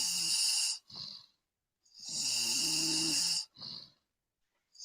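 A person snores in slow, deep cycles, each long rasping inhale followed by a shorter breathy exhale with silent gaps between, loud and close with no talking.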